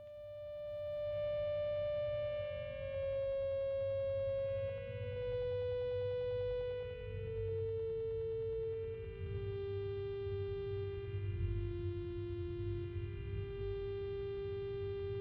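A long electronic tone from a video game puzzle, a pure sustained note that slowly glides downward in pitch over several seconds, steady and moderately loud above a low rumbling hum.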